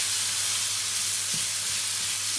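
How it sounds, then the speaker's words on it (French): A chicken pastilla spice mixture with cinnamon is stirred in a hot pan, producing a loud, constant steamy sizzle and hiss, close up, with faint scraping beneath. "On mélange bien quand même pour que tous les épices se mélangent"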